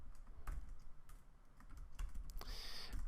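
Fingers type code on a computer keyboard in quick, uneven bursts of close key clicks, with a few short pauses between runs and no talk.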